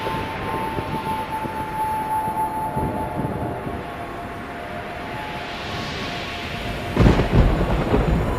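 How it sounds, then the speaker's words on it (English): Thunder rumbles over a continuous stormy wash in a Wild West ghost-town haunted house at a Halloween event, with a louder crack and rolling boom near the end. "As the thunder cracks"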